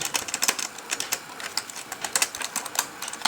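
Rapid, clicky typing on a computer keyboard, close and crisp, with irregular bursts of keystrokes filling the whole stretch and no talking.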